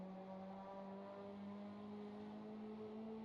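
A mini stock race car in the iRacing simulator drives off an oval corner under full throttle, its engine a steady buzzing drone with a slowly rising pitch, continuous and fairly loud, with no voices.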